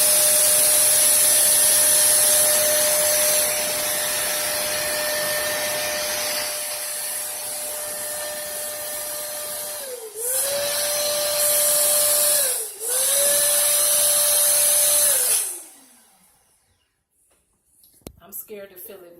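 Pump inflating a large 24-inch tulle balloon, a steady loud mechanical whine and hiss running continuously with two brief dips where it pauses and restarts, then cutting off near the end.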